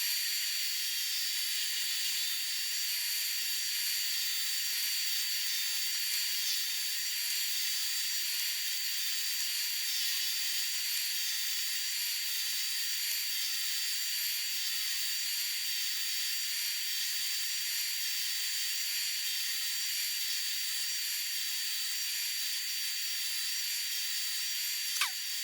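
A Byrnes saw makes test cuts through a wooden board, giving a steady, loud, high-pitched whine that holds evenly throughout with no talking, ending in a brief click.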